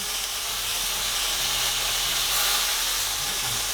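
Beef pieces browning in hot oil for Mongolian beef, giving a steady, loud broadband sizzle and hiss that holds evenly throughout with no talking.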